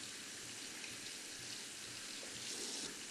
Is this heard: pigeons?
no